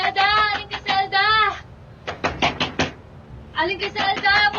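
Heavy pounding on a door in a Filipino drama scene, several rapid bursts of loud thuds separated by brief pauses, with people shouting between and over the knocks.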